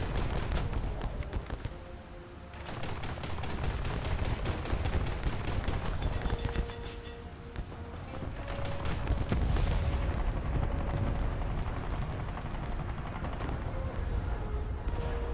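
Naval gunfire striking a Japanese ship from close range in a naval combat game, with a dense, continuous roar of booming shots and impacts layered over rumbling engine noise, loud throughout.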